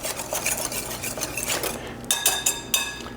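Granola ingredients with cinnamon are stirred by hand in a mixing bowl, with a soft continuous scraping and rustling, then a few sharper clinks of the utensil against the bowl sides near the end.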